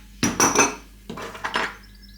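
A spoon scrapes and clinks against a glass jar while scooping out pizza sauce for air fryer pizza toast, two short bursts of scraping and tapping, close and fairly loud, with no talking.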